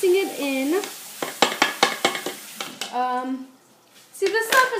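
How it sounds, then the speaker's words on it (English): Cookie dough is mixed in a bowl with quick rhythmic strokes and soft scraping clicks, bracketed by a voice making drawn-out vocal sounds at the start and end. "So we're really mixing it in."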